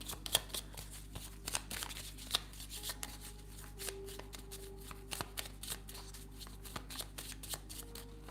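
Steampunk Kipper cards being shuffled by hand at close range: quiet, steady riffling and sliding of cards with small irregular taps, continuing for several seconds.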